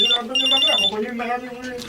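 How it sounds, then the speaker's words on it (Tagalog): A cellphone rings with an incoming call inside a tire-repair and vulcanizing shop, a bright electronic ringtone repeating in short bursts while voices talk underneath. "si paring Baldo itong tumatawag sa cellphone ko"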